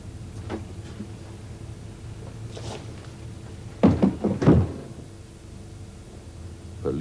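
A door opens in a 1985 TV drama, with a cluster of wooden clunks and a latch rattle over a quiet room tone, preceded by a few faint knocks and shuffles.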